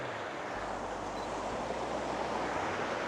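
Ocean waves washing onto a shore as a continuous broad roar of surf, steady and unbroken, with a low wind rumble underneath.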